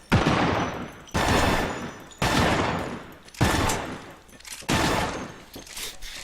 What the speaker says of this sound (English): You can take and 2-round burst shotgun that fires 2 at a time